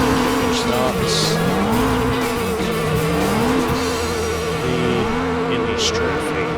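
Lotus Elise racing cars from Gran Turismo 3 drone loudly and continuously at the start of a race, engine pitch rising and falling with gear changes, and a voice talks over them.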